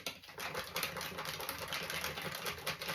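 A dressing of honey, apricot nectar, mustard and French onion soup mix being whisked in a bowl, with a rapid, continuous rhythmic clatter close by.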